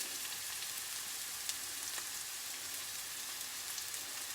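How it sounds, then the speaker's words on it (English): Curry leaves and onion frying in a pan, giving a steady, even sizzle with faint crackles throughout and no voices. "And today you want to fry up your curry leaves as well with the onion."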